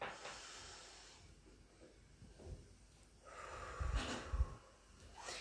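Someone does a deep diaphragmatic breathing exercise, close and quiet: long airy inhales and exhales repeated several times, with a couple of stronger nasal puffs near the end and no speech.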